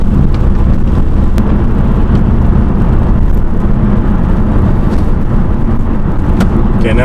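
Loud, constant interior road rumble and engine drone from a Ford Focus with a DCT transmission being driven and shifting gears, broadband and steady with no clear breaks.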